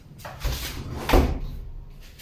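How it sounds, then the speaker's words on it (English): A door closing in a clinical patient room, a soft thud, then a louder latch-like knock a moment later, close by and with no talking. "I am going to close the door to ensure my patient's privacy"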